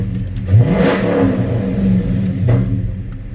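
A 2009 Dodge Challenger SRT-8 engine cranks and fires up, then revs in a couple of swells before settling into a loud, rumbling idle up close.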